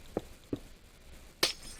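Red stained glass blocks are placed one after another in a block-building video game, each making a short, crisp click, with two quick placements and a third, brighter clink after a pause.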